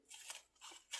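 Scissors snip through a Streptocarpus leaf cutting in three close, crisp cuts, quiet and alone with no talking.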